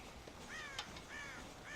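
Crows caw at a farm silo in the Red Dead Redemption video game, three faint hoarse calls spaced about half a second apart over quiet background ambience, with a brief tap in between.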